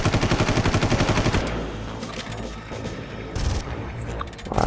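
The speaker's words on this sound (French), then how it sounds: "Vous voyez, minigun." Minigun firing in Far Cry, a rapid rattling burst of shots close and loud for over a second, then the spin-down and scattered mechanical clatter and booms that follow at a lower level.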